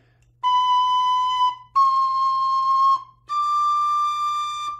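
A tin whistle sounds the note B three times, each a clear, sustained pure tone lasting about a second, separated by short gaps, played solo and close with no talking.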